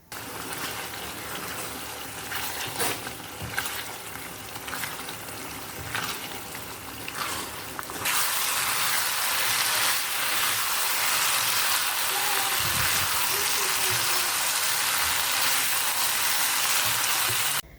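Spicy potato and chicken liver-gizzard sambal simmers and sizzles in a pan, a steady close hiss that turns louder and fuller partway through as the sauce reduces.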